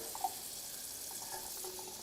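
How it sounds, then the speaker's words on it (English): Water runs from an adjustable faucet at a strong flow onto succulents, a steady close splashing hiss throughout with a small clunk near the start. "This is too much water. That's too much water flow."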